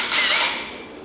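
A power drill spins briefly to loosen its chuck, a close, loud whirring burst that rises quickly and then fades over about a second.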